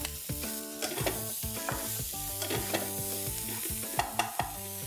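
Finely chopped garlic and red capsicum sizzle in a hot pan, a steady frying hiss broken by repeated knocks and scrapes of stirring.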